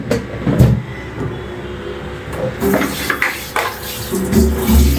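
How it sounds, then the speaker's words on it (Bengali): Two bowls being washed at a kitchen sink: scattered clinks and knocks of dishware with running-water splashes, close and fairly loud, coming in irregular bursts, with no talking. "এই যে বাটি দুটো ধুয়ে ফেললাম।"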